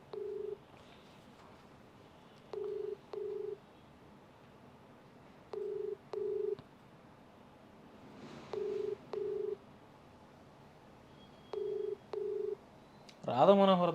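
A telephone is dialed for a live call: short paired keypad tones repeat at steady intervals over a quiet line, and a voice briefly comes in at the end.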